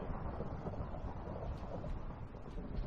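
Thunder rolls outside in a dense, sustained low rumble that stays even and unbroken, with a windy rain-like hiss mixed in and nobody talking.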